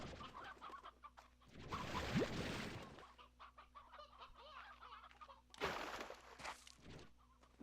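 Chicken clucking in the Slime Rancher 2 video game, a series of close, busy clucks and squawks with two louder flurries near the start and end over a steady low game hum.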